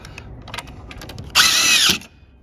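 A power drill driving an edge screw into wood decking through a Camo Marksman Pro guide, a loud whirring burst of about half a second after some light handling clicks.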